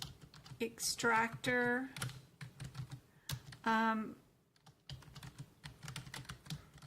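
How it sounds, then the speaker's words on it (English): Typing on a computer keyboard, a steady patter of close keystrokes running throughout, interrupted by a person speaking a few words over it. "I'll type it in chat."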